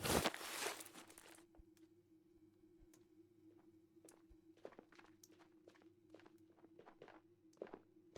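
Enemy footsteps in the VR shooter Ghosts of Tabor, a string of faint, irregular steps and small scuffs at a distance, following a brief louder rustle at the start.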